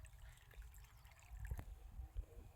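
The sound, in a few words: irrigation water flowing in a wheat field channel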